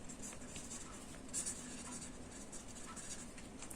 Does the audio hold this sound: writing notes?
yes